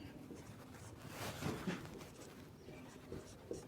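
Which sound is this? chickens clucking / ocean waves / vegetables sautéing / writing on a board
writing on a board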